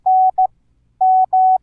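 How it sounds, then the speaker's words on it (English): Morse code in the old movie style comes as loud, clean single-pitch beeps in a pattern of long and short tones with brief gaps between them. "I always imagine the old Morse code on movies"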